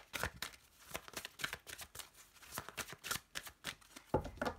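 Tarot cards being cut and shuffled by hand, a run of crisp, close riffling flutters and slaps in quick irregular bursts.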